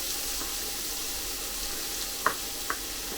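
King prawns fry on high heat in a hot pan, giving a steady, close sizzle with a couple of faint clinks partway through.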